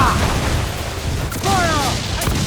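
Ship cannons fire during a naval battle in Assassin's Creed IV: Black Flag, dense booming and rumbling blasts over a constant roar of battle noise, with shouting voices briefly audible in the mix.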